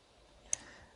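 A single sharp mouse click, brief and fairly close, against a quiet room with no talking.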